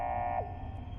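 Inside the video game Fallout: Frontier, a steady electronic alarm tone buzzes loudly, then drops away abruptly midway through a brief burst, leaving a fainter hum behind.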